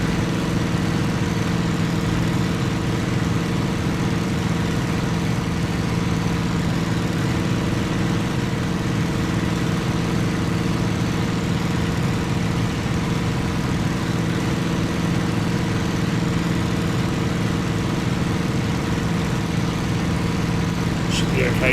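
Steady, loud drone of a fighter plane's piston engine in the flight game Cliffs of Dover, running continuously without a break and straining as it heats under hard use.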